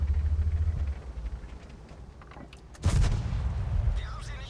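A tank gun firing AP rounds in World of Tanks lets out a single sharp, booming shot partway through, after a low rumbling engine drone that fades, and the blast's rumble then decays into the background.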